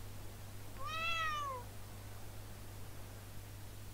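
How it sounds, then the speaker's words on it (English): Cat on a rooftop in Trails into Reverie lets out a single clear meow, rising then falling, over a quiet steady hum. "you know the cat on top of the SSS building"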